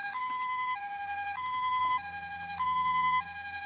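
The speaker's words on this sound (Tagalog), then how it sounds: "Ambulance." A toy ambulance siren wails in a steady electronic two-tone pattern, alternating high and low pitches about every second, close and clear with no talk over it.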